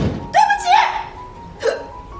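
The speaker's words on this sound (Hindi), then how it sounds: "अब इसे पूरे दिन हिचकियाँ ही लगती रहती है" A girl hiccups in an animated drama after a startling morning encounter: two or three short, sharp vocal hiccups, close and fairly loud, each followed by a brief pause, with no talk.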